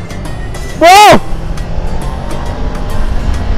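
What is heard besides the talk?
big motorcycle (moge) accelerating during test ride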